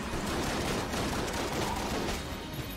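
Shotgun fire in the video game Enter the Gungeon: a steady, dense wash of blasts and chattering impacts that stays loud and uninterrupted throughout.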